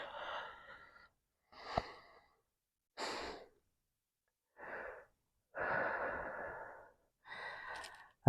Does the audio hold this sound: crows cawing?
no